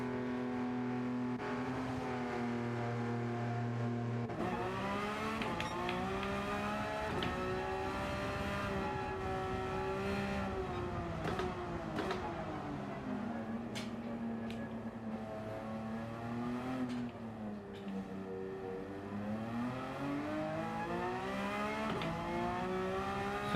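A race car engine in Gran Turismo 7 during a four-hour endurance race at the Nürburgring. It drones loudly and steadily, its pitch climbing and dropping through repeated gear changes and revving, with no voices.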